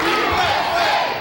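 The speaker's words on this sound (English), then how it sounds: "it seems as though the crowd is getting excited" Large crowd at the 1983 AAU Nationals cheering and shouting loudly, a sustained roar of many voices filling the whole moment without pause.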